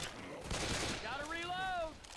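Gunfire in the video game Left 4 Dead 2, heard as a short burst of rapid shots with a voice shouting over the end of it.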